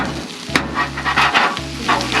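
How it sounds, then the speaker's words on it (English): Metal griddle scraper cutting sourdough toast on a hot Blackstone griddle outdoors in the mountains, quick scraping strokes over steady close sizzling, no voices. "Slice that toast up with my griddle scraper,"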